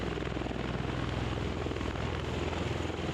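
A tiltrotor aircraft, probably an Osprey, churns at Marine training with its propellers giving off a loud, constant throbbing drone that fills the whole stretch without pause or voices.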